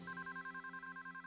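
A telephone rings with a fast, warbling electronic trill pulsing about ten times a second, steady and faint with no voices.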